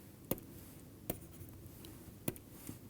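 Pen or chalk strokes writing small-x notation during a maths lecture on affine algebraic sets, three or four short sharp taps spaced across a few seconds, close and faint against a quiet room.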